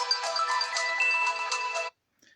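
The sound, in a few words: phone ringtone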